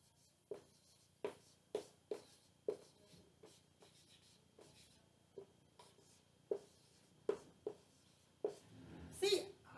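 Pen strokes writing numbers by hand on paper while working a multiplication problem, a series of short, close, distinct taps and scratches at irregular intervals, with a louder rustle at the end.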